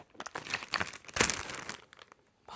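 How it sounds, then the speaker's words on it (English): A plastic bag holding spinning fibre crinkles and rustles close by in irregular bursts, louder in the middle, then quieting. "Got my little plastic bag that I put the fibre in"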